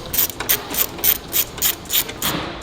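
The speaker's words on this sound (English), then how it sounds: "this is a fancy ratchet" A fancy ratchet turned while installing springs on a 2019 Acura RDX, giving a close, rhythmic series of sharp clicking bursts about twice a second with no talking.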